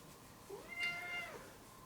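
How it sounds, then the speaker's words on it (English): A house cat lets out a single drawn-out meow, soft and fairly close, rising and then falling over about a second in an otherwise quiet room. "It's my cat here."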